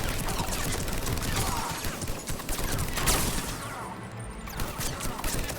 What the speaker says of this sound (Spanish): estaba disparando un tieso